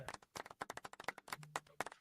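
Quiet hand claps in quick succession, a dozen or so sharp slaps in an uneven rhythm, with faint voices underneath.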